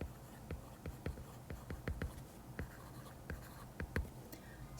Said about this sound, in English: I'll write it right here.